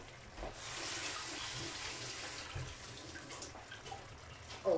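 Steady running tap water splashing over fresh mint leaves being rinsed in a sink, a continuous close wash of water with small shifts in flow and a brief louder splash near the end.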